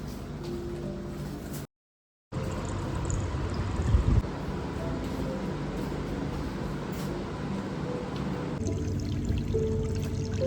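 Cold water from the fridge being poured in a steady, continuous rushing stream for about ten seconds, broken by one brief silent gap, moderately loud and close with no speech.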